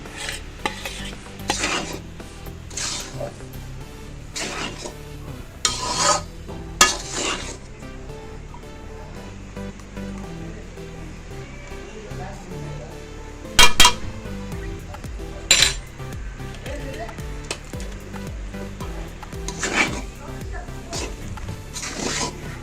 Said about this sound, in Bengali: এবার আমার এই মাংস আর ডিমটা দিয়ে দিলাম